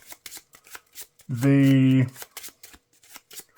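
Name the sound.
shuffling Marvel Champions cards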